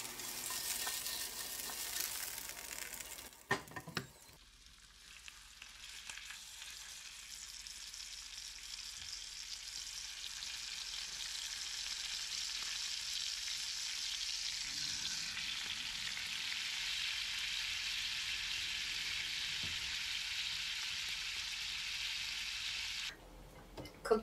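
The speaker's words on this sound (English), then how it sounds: "Cooking up some bacon to go with our steak." Bacon sizzles and crackles steadily in a pan in a cozy Alaskan cabin, a loud continuous fry that runs alone for most of the stretch, with a few brief clatters near the start.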